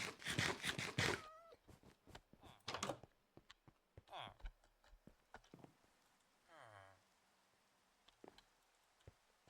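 Cats meowing in the Minecraft game world, a few short meows scattered between bursts of game sounds and a player's voice.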